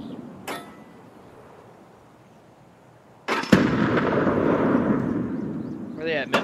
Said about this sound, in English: Grenades at me.